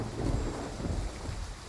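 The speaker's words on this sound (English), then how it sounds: "Why do we always end up caught in a thunderstorm whenever we're together?" Thunderstorm in a video game, a steady wash of heavy rain with a low rumble of thunder rolling underneath, continuous and fairly soft, with no voices.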